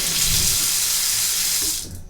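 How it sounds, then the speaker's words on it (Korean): Water runs hard and steady from a newly installed wall-mounted hot-and-cold mixer faucet in a rural house, a loud, close hiss that cuts off at the end. "온수 쪽이든 직수 쪽이든 지금 물이 아주 잘 나오고 있는 상황입니다"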